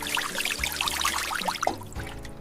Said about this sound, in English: I wash vegetables.